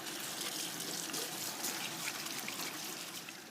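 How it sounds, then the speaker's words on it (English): Tap water runs steadily into a kitchen sink as hands are washed during cooking, a continuous close splashing hiss with no talk. "just wash my hands"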